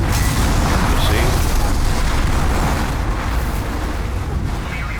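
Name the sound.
fire attack exploding in video game Demon's Souls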